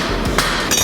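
Hammer forging a scarf onto the end of a steel bar for a homemade drill bit, with two or three sharp ringing metallic blows on the anvil, loud and close.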